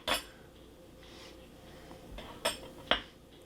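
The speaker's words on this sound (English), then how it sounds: "I got these spoons to put in my jars because they fit." Metal soup spoons clink against glass jars while elderberry syrup is being made: three sharp, bright clinks spread over a few seconds, close by, separated by quiet handling noise.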